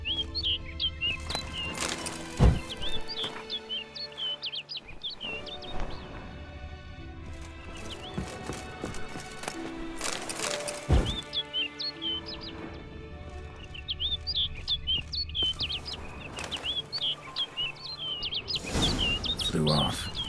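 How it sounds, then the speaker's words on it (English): A bird in The Witcher 3: Blood and Wine chirps in repeated bright tweets across a quiet outdoor game scene, interrupted by occasional thuds and rustling movement, fairly close. "Looks like the bird's leading me somewhere."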